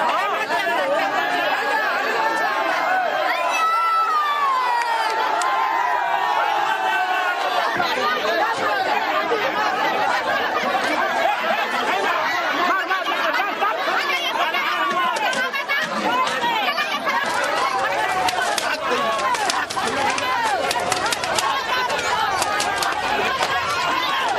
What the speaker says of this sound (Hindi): दर्जनों की भीड़, शराबबंदी का नारा और उसी के बाद शराब के ठेके पर धावा